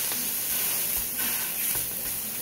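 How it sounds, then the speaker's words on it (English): Low-carb pizza burger patties fry in a pan on medium-high heat, giving a constant broadband sizzle and hiss with faint pops, close and steady throughout, no voices. "we're just going to pan fry these on medium high"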